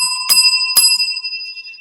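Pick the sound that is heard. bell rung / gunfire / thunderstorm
bell rung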